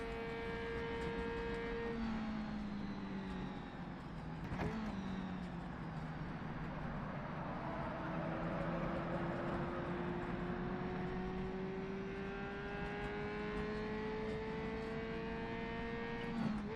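A racing motorcycle engine during Isle of Man TT testing holds a steady, sustained drone whose pitch slowly rises, heard from on board with constant wind rush and no talking.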